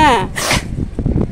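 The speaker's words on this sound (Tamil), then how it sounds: "துப்பத்தியா கண்டதையும் வந்து பார்த்தா அப்புறம் தும்மல் தான் வரும்." A dog sneezes sharply once, a close snorting burst standing out over a busy outdoor setting where people talk nearby.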